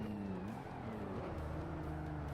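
A Pontiac GTO engine in the Forza Motorsport racing game drones continuously with shifting pitch as it revs, loud and close, with no pauses across the stretch.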